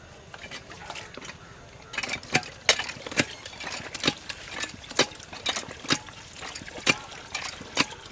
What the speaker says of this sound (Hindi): लाओ डालो पानी डालो